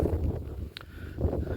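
Strong wind gusting at about 4500 feet altitude outside a mountain stay, a steady low roar buffeting the microphone throughout, with no voices.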